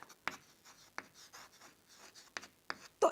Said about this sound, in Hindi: तो यहां पे हम लिखेंगे रिजेक्ट या नॉट रिजेक्ट